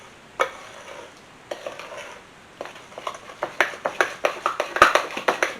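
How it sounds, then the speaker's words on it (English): Cheesecake-stuffed pumpkin bread batter with pure vanilla being stirred in a bowl, a steady run of close, wet scraping strokes that grow quicker and more rhythmic toward the end, with no talking. "Get all that stirred."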